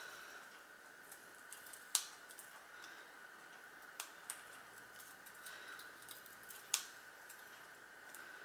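Scissors snipping paper for an explosion canvas art project, a few sharp, quiet cuts spaced apart with a faint steady hum of the room behind.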